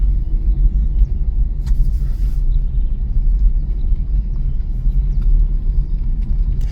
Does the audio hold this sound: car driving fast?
yes